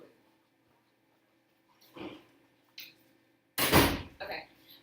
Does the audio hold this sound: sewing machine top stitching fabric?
no